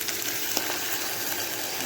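Liver sizzles steadily in a pan after a splash of water, a loud, continuous close-up hiss and crackle with a few faint clinks, no talking.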